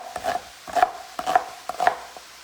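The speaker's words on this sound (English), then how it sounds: "So we're just gonna chop that up." A knife chops through a small-to-medium onion in four evenly spaced, crisp strikes on a cutting board, close and fairly quiet, with no talking.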